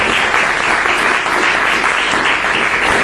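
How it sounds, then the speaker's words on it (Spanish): A live audience at a talk on ancient Greco-Roman lutes bursts into dense, loud, sustained applause, many hands clapping together without pause. "No era para que aplaudierais"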